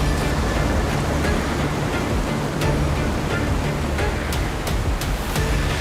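Water rushes down a waterfall on a rocky descent toward a cave, a loud, steady, unbroken roar close by with nothing else heard.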